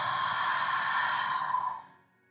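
A long, steady exhale of breath during a beginner yoga session, close and fairly loud, holding evenly for nearly two seconds before fading out, with no talking over it.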